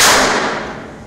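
A single loud gunshot rings out at a shooting school during a firearm test, a sharp crack followed by a decaying echo of roughly one second.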